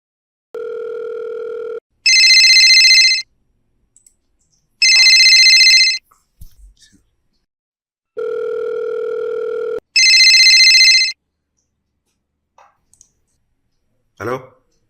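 A telephone call rings out: two-tone ringback beeps alternate with bright electronic ring bursts in a repeating pattern, three cycles in all, followed by a faint rustle near the end.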